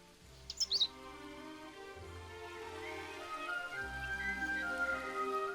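A few quick bird chirps open the scene in the adventure game Unwritten Tales 2, bright and brief near the start, then give way to a soft musical ambience with low tones.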